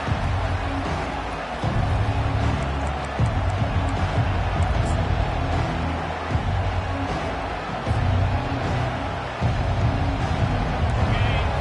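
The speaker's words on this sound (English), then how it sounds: "this home crowd is fired up and ready to make a difference today" A home crowd at a college football playoff game roars in a dense, loud, continuous wash of cheering and crowd noise, with wind buffeting the microphone.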